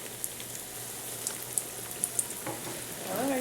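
Trinidad and Tobago fry bakes sizzle softly in hot oil, with a steady low crackle broken by a few sharp isolated pops and a brief louder bubbling near the end.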